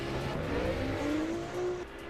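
Custom drift cars, a BMW and a Nissan S15, rev at a drift competition, their engine tone steady and moderately distant, rising in pitch over about two seconds.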